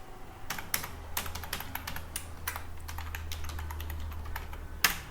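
Someone types an email ID on a computer keyboard while updating a school profile on a web portal: rapid, irregular clicking keystrokes, close and continuous, with a sharper key press near the end.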